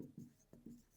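A pen scratches across paper while a 6th-grade geometry exercise is worked out, with short, soft, close strokes coming in quick bursts in a quiet room.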